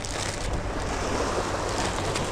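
Sea waves wash continuously at sea, a broad roaring surge with wind buffeting the microphone, loud and steady throughout with no voices.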